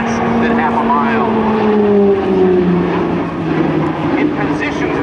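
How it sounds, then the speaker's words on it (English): E-2 Hawkeye propeller plane, a 27-ton carrier aircraft, drones loudly at an airshow as it banks through a tight 360-degree turn, its engine pitch sliding slowly downward, with an announcer talking over it throughout. "Watch closely as this 27-ton plane executes, this 360-degree turn within a radius of less than half a mile."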